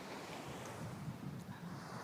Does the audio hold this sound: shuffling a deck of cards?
no